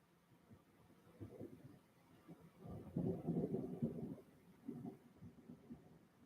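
Thunder from a thunderstorm rumbles low and faint in a few rolling swells, the longest about a second, with quiet background noise between them and no talk.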